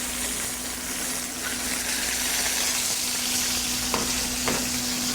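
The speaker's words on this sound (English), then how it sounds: "Now all we have to do is just drop a couple of fish here." Fish dropped into hot oil fries with a steady, loud sizzle and crackle throughout, a constant hum underneath and two brief sharp pops near the end.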